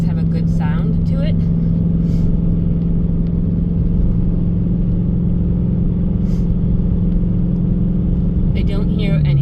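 A 2019 Dodge Challenger with a 5.7 engine cruises along, a steady low droning hum with road rumble throughout, easing slightly near the end, heard from inside the car under faint background noise.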